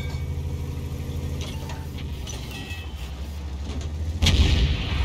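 A tank cannon fires in World of Tanks during an E 50 Ausf M match, a sharp loud blast near the end over a steady engine rumble and distant battle noise.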